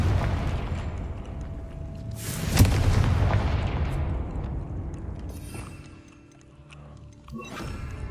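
The Confringo explosive spell goes off in Hogwarts Legacy with a loud booming blast that rolls out and decays. A second, fainter burst follows near the end.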